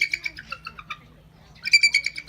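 A bald eagle at the Phoenix Zoo gives high, thin chittering calls in two bursts with a quiet gap between, clear and fairly close.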